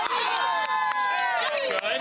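Dense outdoor crowd at the NFL Draft shouting and cheering around a camera, many excited voices and children's shrieks layered close together, loud and sustained.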